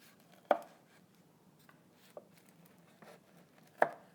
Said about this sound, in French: Il reste seulement à le couper en faisant des pointes.